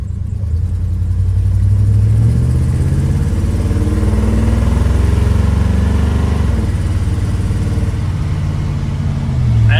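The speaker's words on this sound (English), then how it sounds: "Still, it runs pretty good though. It's just a stock 350 right now." Stock 350 engine of a car running steadily and fairly loud, a continuous low rumble close by with no talk over it.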